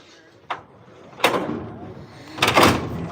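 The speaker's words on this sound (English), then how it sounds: "I got another cabinet." A workshop cabinet is opened with three separate knocks and thuds: a small click, then a bang, then a longer rattling clatter, all loud and close.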